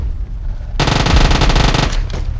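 Loud, close automatic gunfire from PUBG Mobile rattles in a rapid continuous burst of over a second after a quiet start, then stops abruptly.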